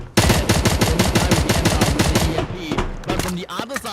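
Rapid automatic gunfire from a shooter game, MATR1X FIRE, during an esports match: dense loud bursts in steady rhythm, then scattered single shots and clatter as the firing tapers off.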